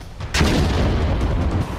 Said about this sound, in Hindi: रविवार सुबह धमाका हुआ।